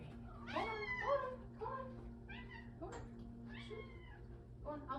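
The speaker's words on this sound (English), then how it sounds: "I have two cats, you guys. Two tuxedo cats" A tuxedo cat, one of two in the home, meows repeatedly in a series of clear, close, rising-and-falling calls with short pauses between them, over a steady low background hum.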